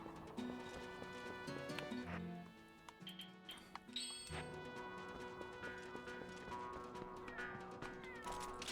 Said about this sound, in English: there's a cat over there